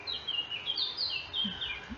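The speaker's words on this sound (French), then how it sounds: "il y a tous les oiseaux, il y a un petit rouge-gorge qui est juste à côté" A European robin and other small birds sing close by outdoors at an ecological village, with thin, high warbling phrases and quick chirps, along with a few lower calls near the end.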